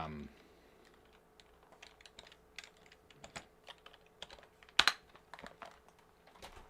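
Computer keyboard typing at a distance, scattered soft key clicks in irregular bursts with one sharper louder tap midway, fairly faint in a quiet room.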